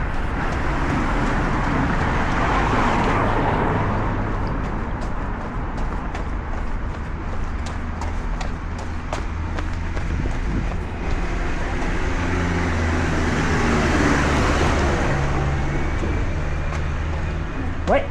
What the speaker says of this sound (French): Circulation.